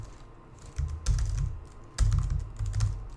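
Close computer keyboard typing as code is entered, two distinct bursts of quick clattering keystrokes separated by brief pauses, with no talking.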